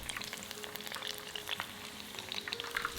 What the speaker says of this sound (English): Carefully place them in the oil and don't overcrowd the pot.